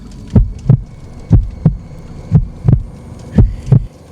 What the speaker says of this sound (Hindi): मुझे मेरे सीने की धड़कन साफ साफ सुनाई दे रही थी